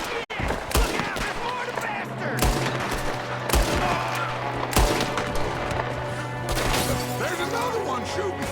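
Gunfire in the western video game Red Dead Redemption 2 cracks out as repeated loud, sharp shots at an uneven rhythm, with bursts of rapid fire over a steady low game rumble.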